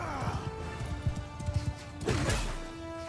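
Horse galloping in the video game Mount & Blade II Bannerlord, with a rapid, uneven clip-clop of hooves close by. A whinny and impact sounds from the battle break in near the end.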